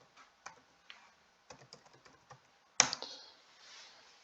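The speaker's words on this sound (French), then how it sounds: "je vais taper résultats organiques par exemple" Keys tapped on a computer keyboard while a search query is typed, a few light scattered clicks and short bursts, then a louder sharp clack near the end, alone and close.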